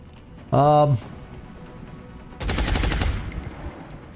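A short voiced sound rings out, then a single-shot gunfire burst from XCOM cracks loud and broadband for under a second, trailing off into a quieter tail.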